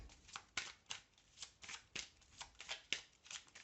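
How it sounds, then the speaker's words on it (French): Tarot cards being shuffled and drawn, a dry papery riffle and slide repeating in quick soft bursts about every half second, close and quiet with no voices. "Je vais tirer 4 cartes."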